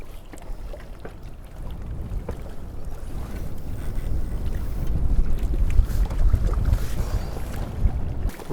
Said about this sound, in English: the wind seems to be getting worse